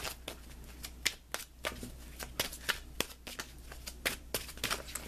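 Tarot cards being shuffled by hand: a steady series of crisp riffles and slaps, close and clear, with short pauses between bursts over a faint background hum.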